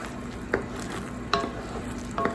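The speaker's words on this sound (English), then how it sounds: "It wants you to take a wooden spoon and it wants you to beat it." A wooden spoon beats thick homemade caramel in a pot, giving three soft knocking scrapes spread across a steady low hiss, close and fairly quiet with no talking.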